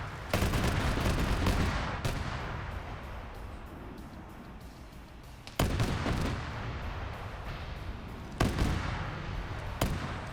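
Gunfire during a one-life PvP video game match: dense, continuous bursts of shots that keep rolling for several seconds, with a few sharp louder cracks standing out at intervals, with no voices.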